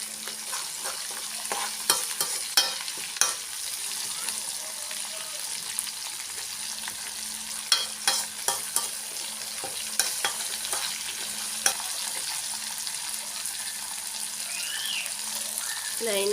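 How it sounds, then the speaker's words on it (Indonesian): Vegetables being stir-fried in a pan for fried tiwul rice with salted fish, with a steady sizzle, spatula scrapes and clacks against the pan recurring through the clip, and no talk. "saya oseng-oseng dulu sampai dia agak layu baru saya masukkan tiwulnya"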